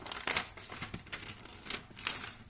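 A sheet of paper being folded and creased, with several crinkling, rustling bursts at an uneven rhythm, close and moderately loud.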